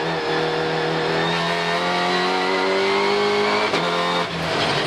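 Onboard in a Supercar Challenge race at the Nürburgring, the race car's engine roars loudly and close, holding a high droning pitch that climbs steadily before a quick gearshift break, with other cars near.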